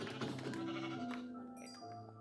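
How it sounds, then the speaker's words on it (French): Sheep bleating in Minecraft, a single drawn-out, wavering bleat at low volume, sounding close and alone. "Un mouton. Un mouton."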